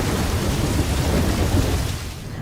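Heavy rain pours steadily with a deep rumble of thunder rolling underneath, a dense, loud, continuous wash of sound with no voices.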